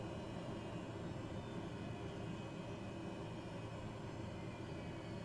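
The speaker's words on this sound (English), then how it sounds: "Good run down there on the engine." Turboprop engine of a Cessna Caravan in a flight simulator spooling down after shutdown, a steady broadband whine and rumble that holds at an even level throughout, with no voices.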